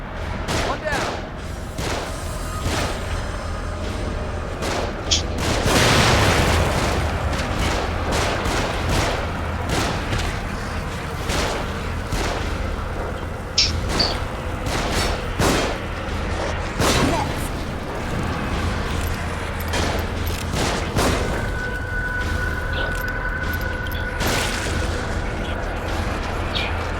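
Enemy gunfire in the horror game The Evil Within, with shots coming from above: repeated sharp cracks and booms scattered across the stretch, some in quick bursts, over ongoing background rumble.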